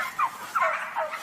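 Turkeys in a crowded industrial organic farm shed gobble and call in three quick, warbling bursts, close and loud over a dense background murmur of other birds.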